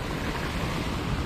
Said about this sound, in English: water is coming in from here in this canal, and the flow is heavy because it's raining a bit